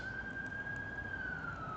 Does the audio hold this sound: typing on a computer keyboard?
no